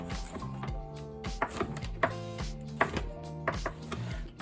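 A knife cuts seasoned cornbread into cubes on a board, a series of soft, dull thunks at an uneven pace, heard close over steady background music.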